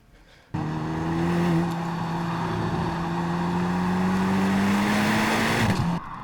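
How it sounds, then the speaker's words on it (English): Steady engine drone and road roar from a car driving over rumble strips, a close continuous hum that holds for several seconds before dropping off abruptly at the end, with no voices. "the car is kind of running over the rumble strips"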